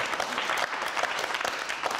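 Studio audience applauding on a TV talk show, a steady dense wash of clapping that holds at even loudness for the whole stretch with no voices over it.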